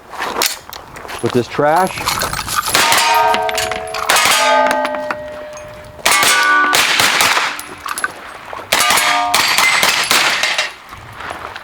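A Taran Tactical TR9 carbine firing a mixed batch of dirty ammunition: loud, sharp shots come in quick bursts and strings with metallic clanging, close up, with someone talking briefly between them.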